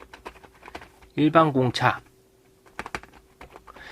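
Computer keyboard typing while drafting a 2D CAD drawing, with rapid light key clicks before and after a short stretch of close spoken words.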